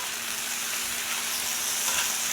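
Pork belly sizzles in a hot pan just after being flipped, a dense, steady crackle and hiss of frying fat, close and even throughout, without any talk.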